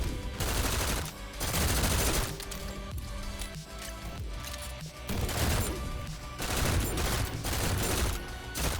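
Auto pistol fire in the shooter game GTTOD: Get To The Orange Door, a dense, loud run of rapid shots and impacts that keeps going for nearly nine seconds with short dips, no voices over it.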